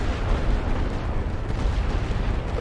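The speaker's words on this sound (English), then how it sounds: "I don't have heavy artillery, but I'll use some light just since they're there." Light artillery firing in the World War I strategy game The Great War: Western Front, a continuous low rumble of overlapping distant booms and blasts with no clear gaps, steady and fairly loud throughout.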